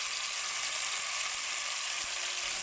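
Onions sizzle steadily in a saucepan for Mahoran-style lentils, a continuous close hiss of frying with one faint knock partway through.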